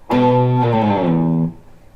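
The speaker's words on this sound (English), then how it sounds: "On that second time we play that 7th fret low E, you're going to slide down like so." An electric guitar note on the seventh fret of the low E string slides down the neck with steady pressure, a single loud, distorted tone that glides lower for about a second and a half, then fades.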